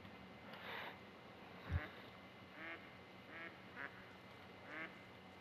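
Ducks in the hunting game theHunter: Call of the Wild give a series of soft, distant quacks at irregular intervals over a low outdoor ambience, with a single dull thud partway through.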